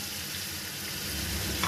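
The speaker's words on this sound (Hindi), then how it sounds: "अब ये डाल के मैं भूनने लगी हूँ" Ground garlic and ginger fry with light golden onions in a pan, a steady close sizzle that holds evenly throughout with a faint stir near the end.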